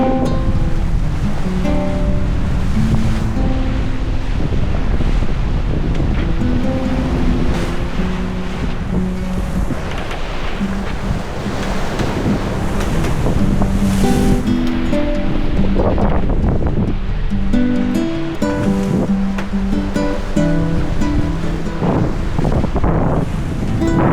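Strong wind gusting to 30 knots roars over the open Atlantic while a sailboat surfs down ocean waves during a crossing, giving a loud, constant wash of wind buffeting and rushing water with no break.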